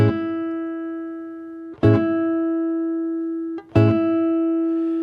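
Piano chords are struck three times and left ringing; each decays slowly as fingers release some notes while the held E sustains.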